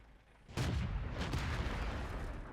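A tank gun shell fires in World of Tanks, a sudden heavy boom followed by a long rumbling roll that stays loud to the end, with no talk.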